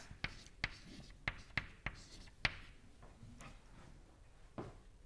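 Chalk or marker strikes a board while an equation goes up during a fluid mechanics lecture on the Navier-Stokes equation, a series of sharp, irregular taps and short scratches, close and fairly clear over a quiet room.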